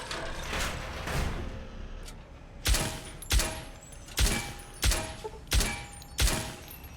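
Six sharp, evenly spaced gunshot impacts strike a character in Fallout New Vegas, played on very hard hardcore mode. A dense, noisy firefight rumbles underneath, and no voices are heard.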